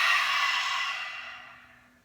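A single powerful exhale from a Kundalini yoga breathing exercise, a long breathy rush of air through the mouth that starts loud and close and fades steadily over about two seconds, with no talking.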